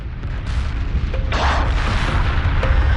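Large explosion as a research station is destroyed in the space strategy game Homeworld Remastered, a sustained rumbling boom with a bright blast swelling midway and low roar throughout, no talk.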